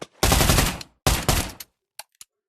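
A gun fires in the Pavlov VR shooting game: two loud rapid bursts of automatic fire, each about half a second long, followed by two short clicks.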